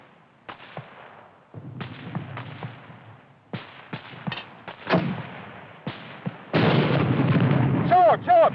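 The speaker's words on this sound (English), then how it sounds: "Hurry up with that mortar!" Mortar and gunfire in a WWII war film: sharp separate blasts and cracks come at uneven intervals, some near and loud, building to a heavier sustained rumble of explosions, with raised voices in between.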